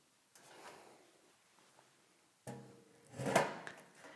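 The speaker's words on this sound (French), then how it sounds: "Vous pouvez enlever votre chaise du tapis" A chair drags and scrapes across a yoga mat during a relaxed session, with a faint shuffle followed by a louder, rougher scraping burst near the end.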